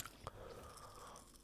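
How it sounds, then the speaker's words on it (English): Crunch of a bite into a cream cheese flavored potato snack, one sharp crack near the start followed by quieter chewing, close up and fairly faint. "That's an epic crunch."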